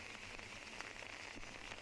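Steady rain patters on the wet surfaces of a disc golf course at a tour event in La Mirada, a quiet, even wash of drops with a few sharper taps, with no voices.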